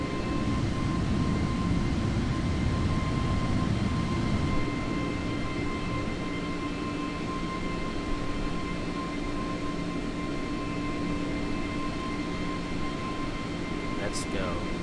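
An FA-18E jet fighter's engine in Microsoft Flight Simulator gives a steady, loud, broadband roar with faint whining tones, holding unchanged throughout.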